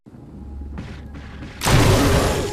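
Grenade launcher fired in the Resident Evil HD remake, a single loud blast bursting in after a quieter stretch of in-game ambience and lingering as a sustained roar.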